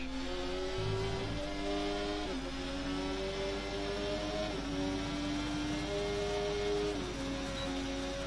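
A Formula 1 race car engine in F1 24 whines steadily at high revs, its harmonic pitch climbing and stepping down at each gear change, loud and continuous with a low rumble beneath and no talk.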